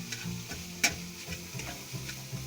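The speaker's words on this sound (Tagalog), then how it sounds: "Tapos pagsasangag tayo." Sinangag, Filipino garlic fried rice, being stir-fried in a pan: a soft continuous sizzle with scattered scraping and tapping of a utensil, one sharper clack near the start, close by and moderately quiet.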